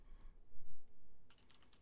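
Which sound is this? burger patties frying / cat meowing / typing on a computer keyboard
typing on a computer keyboard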